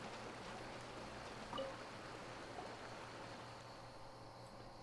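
A waterfall in the video game Genshin Impact rushes as a faint, steady wash of water noise, even and unbroken, with no talking.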